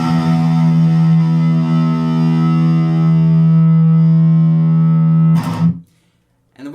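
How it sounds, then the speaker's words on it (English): A single guitar low E string is played in tune and rings loud and sustained for about five seconds before being stopped abruptly, leaving near silence. "So 1st string, or the 6th, the E, should sound like this."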